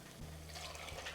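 Milk poured into a soup pot, a steady liquid pour streaming continuously and fairly close.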